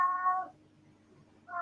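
A cat gives two short meows, one at the start and another at the end with a quiet pause between, clear and fairly close without other sounds.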